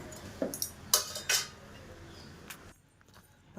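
A spoon knocks and clinks against a bowl a few times as spices are mixed into an aloo paratha potato filling, faint and close, then trailing off into near silence.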